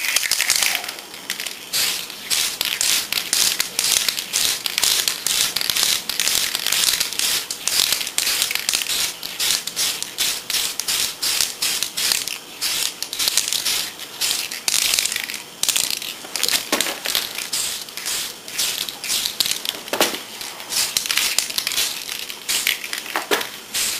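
Tamiya TS-13 clear glass coat sprayed from a can onto a plastic model kit, heard as rapid, rattly hissing bursts that repeat steadily and loudly throughout, with no voices.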